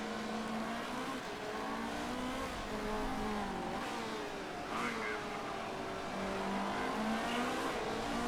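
Race cars circle a track in Motorsport Manager, a steady distant drone of engines with shifting pitch as cars pass, continuous and moderately quiet.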